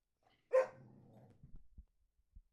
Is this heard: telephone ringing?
no